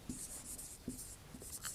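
Marker or chalk strokes on a board while a maths induction proof is written out, a few quiet scratchy bursts with short taps in between, close and faint.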